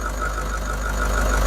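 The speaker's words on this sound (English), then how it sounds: "This is how the engine is running." A Toyota Hiace van's engine idles steadily after an EGR delete, a continuous low rumble with a mid-range tone and a faint knocking texture, close up and alone.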